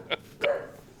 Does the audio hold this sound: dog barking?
yes